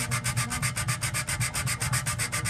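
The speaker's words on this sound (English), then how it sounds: "I've got a small piece of wood, I've got the sandpaper around the end of it" Wet-dry sandpaper wrapped on a small wood block rubbed back and forth over cracked acrylic aquarium panel, a fast, even rasping rhythm of about eight strokes per second, close and loud with no voices.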